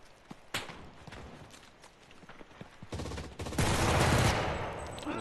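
Machine gun fire in the WWII shooter Enlisted on the Dominant Height Ardennes map, a few scattered shots, then sustained bursts of automatic fire swelling into a loud, dense barrage near the end.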